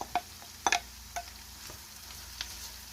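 Saltfish fries in a pot with onions, peppers, pimento and garlic, giving a soft background sizzle. A few sharp clanks and scrapes of stirring break through it.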